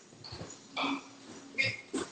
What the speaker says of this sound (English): So, I think that's his dog.